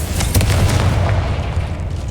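A Confringo spell explosion in the Hogwarts Legacy video game: a loud, deep boom with a rumbling burst that fades out over about two seconds.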